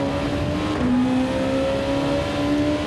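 A race car with downforce accelerating around Suzuka in Gran Turismo 7, its engine holding a loud, steady drone with a rising pitch and shifting tones, close and continuous.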